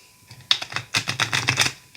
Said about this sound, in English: I'm just going to give it a quick shuffle.